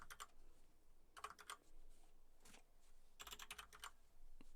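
Computer keyboard typing comes in quick bursts of clicky keystrokes separated by short pauses, close and fairly quiet, with no voices.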